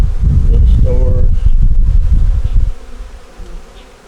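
Honey bees hum loudly and continuously at an open hive during an inspection, a close, dense buzz that thins out toward the end.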